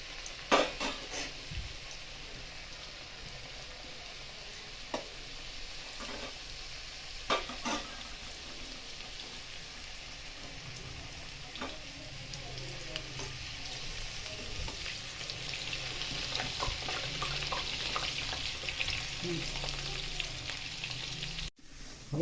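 Sliced potato wafers frying in hot oil in a home kitchen, a constant close sizzle with occasional stirring scrapes and clinks from a utensil against the pan, no talking.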